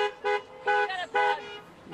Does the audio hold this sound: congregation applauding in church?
no